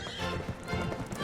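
A war horse gallops into battle, its hooves thudding in a rapid close rhythm that runs without a break across a brief moment, with a faint voice underneath.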